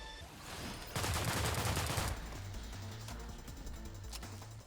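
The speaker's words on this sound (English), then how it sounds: "Now I have a machine gun." Assault rifle firing in the System Shock remake from 2023, a loud dense burst of rapid shots lasting about a second, followed by lighter scattered game sounds and a low rhythmic hum.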